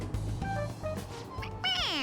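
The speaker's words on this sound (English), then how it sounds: "It meows when you press on its head." A stuffed toy cat in Persona 5 Royal gives several short synthetic meows when pressed on the head, ending in a longer rising-falling meow, clear and close with no talk.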